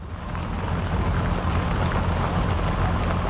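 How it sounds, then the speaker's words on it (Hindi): Steady, dense rain pattering onto an NDRF rescue boat during a flood in India, a loud, unbroken wash of drops with a low rumble beneath and no voices. "इस वक्त मैं खुद एक बोट पर मौजूद हूँ एनडीआरएफ की, और इस समय बारिश हो रही है"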